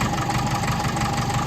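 A restored 1955 Ferguson TEF20 tractor, freshly serviced with a new radiator and filters, ticks over at a steady idle, its close, even, low chugging running continuously without any voices.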